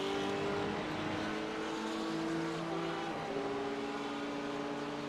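A Porsche race car in iRacing during the Petit Le Mans endurance event sweeps past with a tonal engine whine that shifts pitch as it goes by, steady and moderately loud, no voices.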